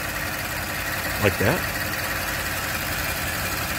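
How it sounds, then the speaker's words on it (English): A Ford engine idles steadily during a 6R80 six-speed transmission fluid service on an F-150, a continuous low hum running throughout, with brief talk partway through. "The engine is running."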